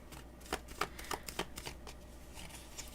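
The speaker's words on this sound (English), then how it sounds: "I'm shuffling right now for King" Tarot cards being shuffled close by in several quick riffling bursts, soft papery flicks spaced irregularly over a quiet background.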